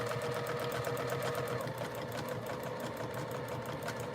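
A sewing machine quilting a wall hanging runs in a fast, steady mechanical rattle, its rapid needle stitching even and continuous at close range with no pauses.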